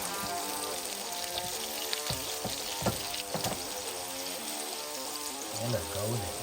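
Smashed chicken burgers sizzle and crackle in a hot pan as they are flipped, with bursts of spattering and popping over a continuous frying hiss, and a faint voice briefly near the end.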